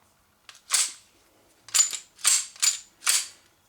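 A Sig Sauer P229 pistol being reassembled, the slide sliding onto the frame, locking into position and the takedown lever flipped up: a series of five sharp, close metallic clicks and clacks.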